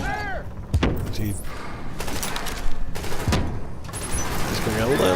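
An automated turret in a video game fires bursts at an enemy, with several sharp volleys and thumping impacts spread across the moment while a player talks over the action.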